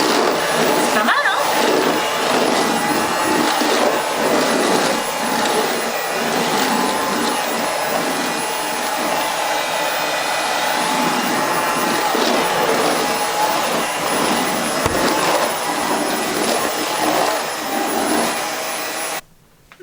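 A JIMMY JV9 Pro Aqua cordless floor washer runs steadily with a loud, continuous whirring drone that holds for the whole stretch and cuts off at the very end.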